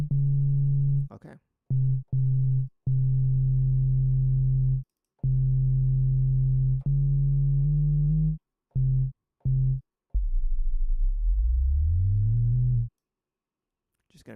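Synthesizer tone on the note D, sounding as steady sine-like bursts that start and stop repeatedly, a few short clicks, and a final tone that bends upward in pitch before cutting off.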